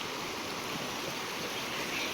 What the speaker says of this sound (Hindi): देखिए खड्ड में पानी आ रहा है हल्का हल्का, और कितनी प्यारी आवाज़ लग रही है।